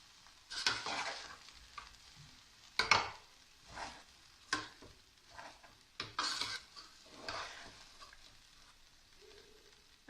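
Green garlic fries in a pan with a soft steady sizzle, punctuated by several sharp scraping and clattering strokes of a utensil as it is stirred and turned, fairly quiet and without speech.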